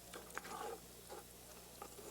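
Bell pepper and celery being stirred in a cooking pot, giving soft scraping strokes and light sizzling in a few short bursts, faint and close with no talk.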